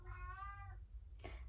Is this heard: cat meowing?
yes